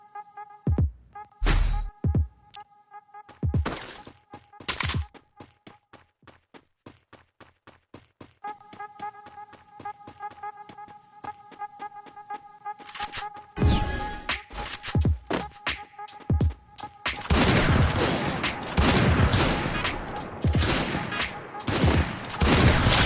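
Gunfire in the Free Fire video game, played on a Xiaomi Redmi Note 13 Pro 5G phone: scattered single shots and short bursts over a steady game tone, building into dense rapid fusillades toward the end.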